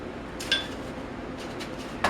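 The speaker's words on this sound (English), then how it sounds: "Next thing you want to do, you want to get about 2 eggs. You want to crack them right in here." Two eggs are cracked against a bowl one after the other, each with a short, sharp tap and clink separated by a quiet pause, in a home kitchen.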